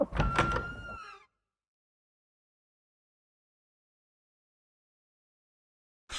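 A door sound from The Witcher 3: Blood and Wine game, a short burst of about one second at the start with a clear tonal creak, followed by long silence and a faint return at the very end.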